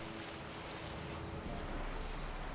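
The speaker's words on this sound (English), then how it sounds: "I could do without the water being shot up and onto the camera." Water spraying up onto the camera in The Witcher, a dense, steady rush of splashing and hissing spray, loud and close, with no voices.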